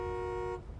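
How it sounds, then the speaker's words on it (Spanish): A truck horn in the SnowRunner video game blares in one steady, loud sustained tone for about half a second, then cuts off, leaving a low rumble. "la bocina"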